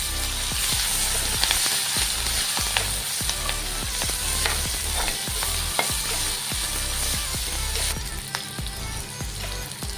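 Chopped onion and two green chilies sizzle in hot oil for a fish curry, a steady close frying hiss broken by repeated scraping stirs of a spatula, with no talking.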